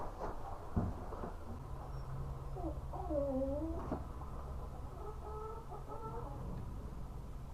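Chickens cluck inside a backyard coop, with a few rising and falling calls over a steady low background hum, close and moderately loud throughout.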